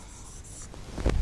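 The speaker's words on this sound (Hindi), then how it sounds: "इसको मैं इरेज कर देता हूँ" Brief rubbing strokes of an eraser wiping writing off a board during a Python lecture, a short close scrub lasting about a second.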